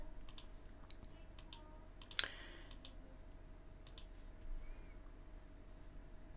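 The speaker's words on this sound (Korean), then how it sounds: "클릭 한번 해보겠습니다." A few faint, crisp computer mouse clicks sound over a steady low room hum, with one sharper click standing out partway through and no voices.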